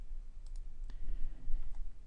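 A computer mouse gives a couple of soft, close right-clicks during spreadsheet work, faint and brief over a low background hum.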